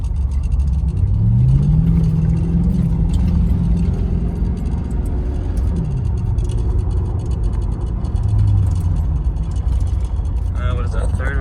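A Ford Crown Victoria with paddle shifters downshifts into first gear and accelerates, its loud engine drone rising and falling in pitch through the rev range, with cabin rumble and faint voices underneath.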